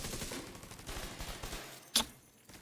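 Weapon fire in the video game The Division 2 crackles in a rapid, dense automatic burst, ending with one sharp, louder shot.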